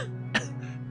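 A voice imitating a woman's cough, one short sharp cough in the middle of a sustained hum, brief and close.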